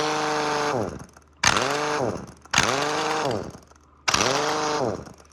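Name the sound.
nut buster power tool running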